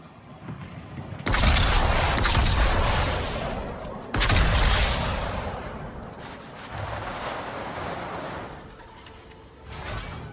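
Heavy warship guns boom in a World of Warships naval battle, firing high-explosive shells: two loud, sustained blasts with rumbling roars, then a lower continuing rumble and a further shot near the end.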